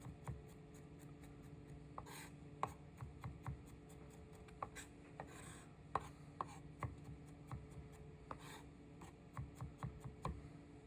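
A chef's knife rocking on its blade curve while chopping on a board, producing soft, fairly regular taps and clicks spaced through the passage, quiet and close with faint background hum.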